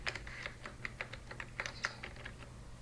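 A password being typed on a computer keyboard: a quick, uneven run of light, close key clicks, one after another, with no talk over them.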